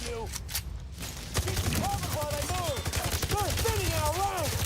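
Rapid gunfire from another player's weapon in a mobile shooter game, a dense run of sharp reports with chirpy effects over a steady rumble, fairly quiet in the mix.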